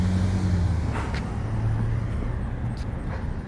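A car rolls down a small-town street with a steady, fairly close road and engine rumble that stays even for the whole stretch, with no talking.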